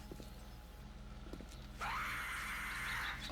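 A screamer zombie in the 7 Days to Die game lets out a long, harsh, sustained shriek that rises suddenly over a low droning game background and holds loud to the end.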